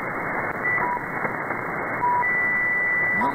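An SDRplay RSPduo radio receiver tuned across the bands gives steady loud static hiss, broken by short whistling tones and brief carrier squeals as the dial moves, with no voices.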